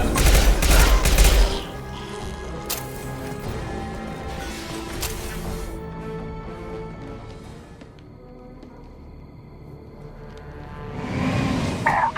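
Gunfire in the video game Mass Effect 2, with bursts of loud weapon shots and impacts at the start, then scattered shots and crashes over a quieter stretch, and another burst of firing at the end.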